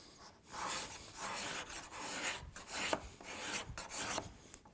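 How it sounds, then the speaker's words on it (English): A cabinet scraper rasps across the wooden inside of a jewelry box in repeated short strokes, a close, dry scraping with brief pauses between passes. "I can use a cabinet scraper"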